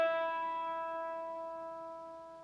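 A single guitar high E string rings out for tuning, one clean sustained note fading slowly, fairly quiet and alone.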